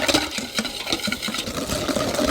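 Cake batter of vegetable oil, egg, egg white and vanilla extract being stirred together in a bowl, a soft, uneven scraping and sloshing that comes in quick repeated strokes.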